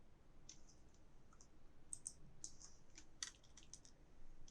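A computer mouse clicks several times in quick, irregular succession, faint and close, with sharp light ticks against a quiet background.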